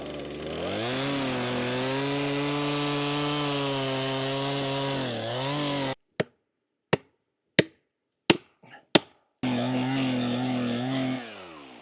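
Chainsaw making the back cut through a standing tree felled by the key notch method: a long, steady loud roar for about six seconds, then several sharp cracks and knocks in near silence, then the saw roaring again.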